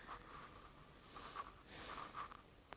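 Pen scratching across paper while accounting entries are written, a quiet, continuous scribbling with small bursts of strokes and no talk.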